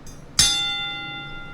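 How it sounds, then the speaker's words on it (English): A single loud bell strike with a bright metallic attack, sustained ringing overtones decaying slowly over a second, preceded by a faint earlier stuttered tap. "the bell stuttered"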